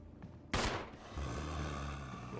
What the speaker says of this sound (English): I'll need to use the handgun ammo to shoot the zombie